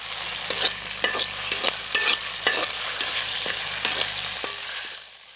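Green chilies fry in a pan for quail roast, hissing in a steady sizzle while a spatula scrapes and stirs at a regular rhythm, close by with no voices, and the sound fades out at the end.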